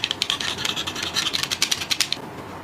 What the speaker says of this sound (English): if you put the knife to scratch the virgin SPC